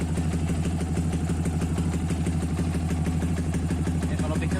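Yamaha Vixion/R15 motorcycle engine idling steadily close by with a rumbling, even rhythm while the clutch lever is pressed and released, the engine note staying essentially unchanged throughout.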